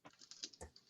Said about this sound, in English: Caleb, I can hear your keyboard